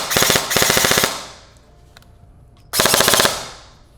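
A Lancer Tactical Gen 3 Mk18 airsoft gun fires two loud, rapid full-auto bursts close by, the first lasting about a second, then a short pause before the second.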